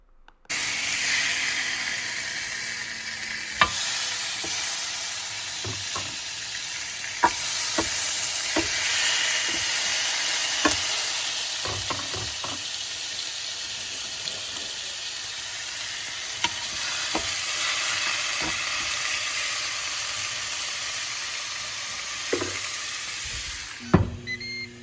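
Pork chops seasoned with Italian seasoning, olive oil and Lea & Perrins Worcestershire sauce sizzle steadily inside a Ninja Foodi XL, a continuous close hiss broken by scattered pops and crackles.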